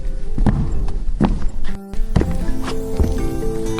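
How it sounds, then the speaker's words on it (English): Soft footsteps approach beneath a giant fig tree in a forest at dusk, a few padded thuds at a slow walking pace over a sustained musical backdrop, with no talking. "Suddenly, he heard soft footsteps."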